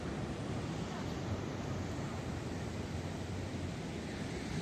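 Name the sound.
ocean waves at night in Iquique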